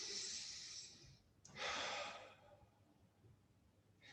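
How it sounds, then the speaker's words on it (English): A person breathes slowly and deliberately during a breathing exercise, two long airy breaths drawn close to the microphone, the second louder, followed by a short breath at the end. "Breathe normally."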